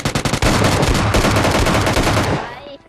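Loud, dense automatic gunfire from the mobile shooter PUBG Mobile Lite, long continuous bursts of rapid shots that fill the space before tailing off at the end.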